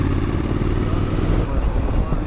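A Triumph Street Scrambler motorcycle is ridden at a steady pace, its engine a continuous low rumble with wind noise, while a person talks over it.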